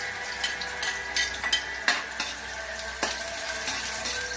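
Ginger sautéing in a pan for squid adobo, a soft continuous sizzle broken by several sharp clinks and scrapes of a utensil stirring, close by, with no speech.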